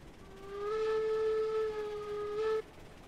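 A steam locomotive whistle in the video game Railroads Online blows one long, steady tone for about two seconds over a faint rumbling background, with no voices.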